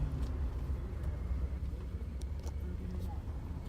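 Steady low car engine and road rumble from inside a moving car, a continuous near drone with faint background sounds.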